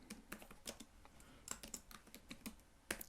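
Java code is typed on a computer keyboard, making quick, soft clusters of key clicks with brief pauses between bursts. The typing is faint and close, with no voices.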